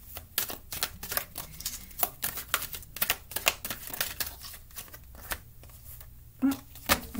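Angel Answer Oracle cards are shuffled close up in quick, crisp riffling bursts with brief pauses, ending in a couple of sharper taps, with no voices.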